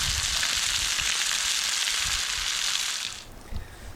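Walleye and pike fillets fry in a pan beside a canoe-trip campsite, a steady, loud broadband sizzle that holds evenly before dropping away sharply near the end, leaving faint low thumps.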